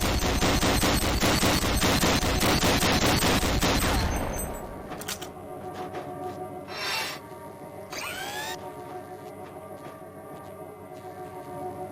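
Rapid automatic weapon fire on a training-course shooting range in the game Gunman Chronicles, a loud continuous burst for about four seconds that cuts off, leaving quiet ambience with a couple of faint mechanical whirs and clicks afterward.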